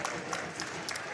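Meskwaki bench and crowd applauding and cheering at a high school varsity basketball game against South Tama, a steady dense wash of clapping held at an even level throughout.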